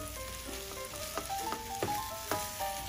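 Scrambled eggs with cheese, peppers and onions sizzle steadily in a pan, with a few sharper stirring scrapes and clicks over a constant frying hiss and some faint background tones.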